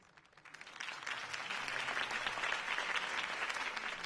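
Crowd applause in a Batman video game swells up quickly and holds steady, a dense wash of clapping from a large audience with no voices.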